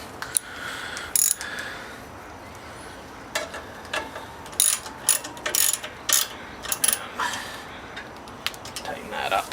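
A ratchet tightens a part on a small engine, making clusters of quick clicking strokes with pauses between, close and moderately loud over faint background noise.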